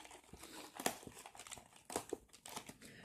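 A small package holding a bracelet being opened by hand, close crinkling and tearing of wrapping in uneven bursts, fairly quiet and without talk.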